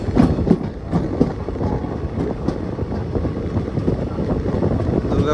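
Train rolling into Durgapur station on a journey from Kolkata toward Vrindavan, a steady close rumble of wheels and carriages with wind buffeting and scattered clanks throughout.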